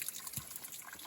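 Water trickling on a hiking trail, a faint, soft continuous dribble with light splashy bubbling, heard alone without any voices.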